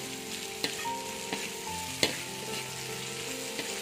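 Chili and shallots fry in hot oil with a steady sizzle, stirred occasionally with a few sharp utensil clinks against the pan; no voices.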